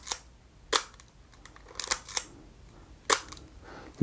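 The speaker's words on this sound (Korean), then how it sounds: "제가 셔터 음을 좀 빠르게 해보겠습니다." A Leica MP film camera's shutter fires in a series of sharp, close metallic clicks, spaced irregularly across a few seconds, with faint winding rasps between them and no voices.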